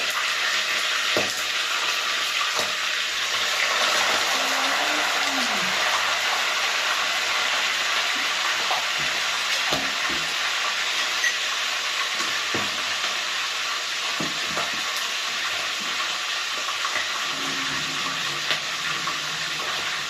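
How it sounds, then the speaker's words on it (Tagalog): Chicken frying in hot oil over a strong flame, a steady loud crackling sizzle held throughout, close and continuous, with faint occasional clinks and a brief low voice in the background. "At ating pong ipiprito ito."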